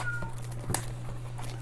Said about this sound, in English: I got cats meowing now.